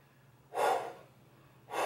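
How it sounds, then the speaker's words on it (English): Two strong breaths, a long one then a shorter one starting, drawn in a controlled way by someone holding a 10 lb dumbbell still during a strength workout. Close and fairly loud, with nobody talking. "controlling my breathing so I can keep a good grip"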